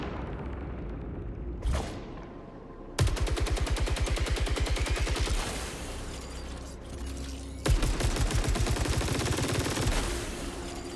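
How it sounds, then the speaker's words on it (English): A Tachyon carbine in the sci-fi shooter Saros fires in two long, rapid automatic bursts after a single sharp blast, each burst a dense stream of crackling shots, loud and close. "it is the Tachyon carbine. Every fire has an alt fire to discover."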